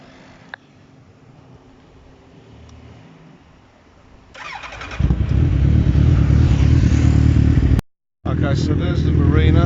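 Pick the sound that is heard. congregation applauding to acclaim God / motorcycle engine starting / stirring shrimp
motorcycle engine starting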